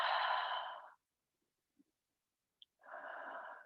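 A person breathes out slowly and steadily during a yoga pose with interlaced fingers and lifted arms, a soft airy exhale lasting about a second, followed by a quiet pause and a second long breath.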